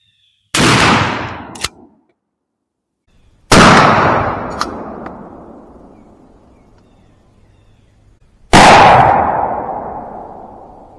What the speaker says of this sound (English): So this was the first time we shot rifle slugs in a rifled slug barrel ever.